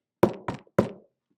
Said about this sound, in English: I banged on the wooden door